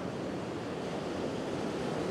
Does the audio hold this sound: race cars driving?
no